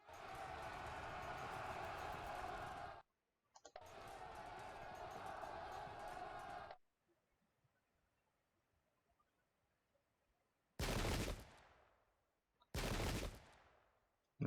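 A musket volley rolls out from an infantry line in a Pike and Shot battle at Edgehill, 1642: two long crackling bursts of massed fire, a quiet gap, then two sharp, loud reports with no one talking.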